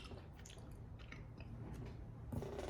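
Close, quiet chewing of Polish partisan ration food with a lemony, plastic-like texture, soft wet bites and squishes repeating steadily with a slightly louder crunch near the end.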